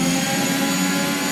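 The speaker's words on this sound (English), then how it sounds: "Okay, we have a severe engine issue." A failing Renault Formula 1 engine in the F1 2021 racing game, heard as a loud, steady, dense roar with a harsh whine, constant throughout and with no voices.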